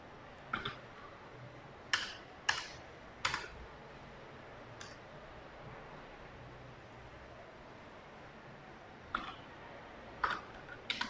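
Computer keyboard keys tapped in short, sparse clusters of crisp clicks separated by pauses, faint and close over a quiet room hiss.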